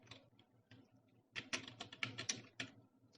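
Someone types on a computer keyboard with a few soft isolated keystrokes and then a quicker burst of louder clacking, close up in a quiet room with no speech.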